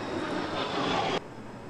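Airplane at Halim Perdana Kusuma airbase, a steady broadband engine roar held loud and continuous for over a second before dropping abruptly to a quieter, duller hum.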